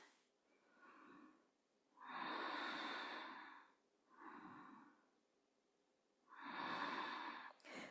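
A yoga practitioner breathes slowly and deeply during a flow: four long, soft breaths in and out, close and quiet, with gentle pauses between them.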